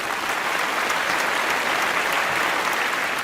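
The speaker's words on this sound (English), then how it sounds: "Can we please have a huge round of applause?" Sustained audience applause at a conference on digital India, a dense, even wash of many hands clapping steadily throughout with no pause or talk.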